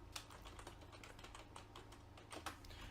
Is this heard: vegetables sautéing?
no